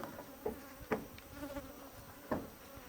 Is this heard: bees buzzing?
yes